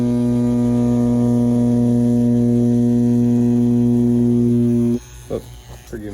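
A Dragonhawk Mast tattoo machine fitted with a 13-round shader buzzes with a steady, loud electric hum while shading, then cuts off abruptly and is followed by a few faint handling sounds.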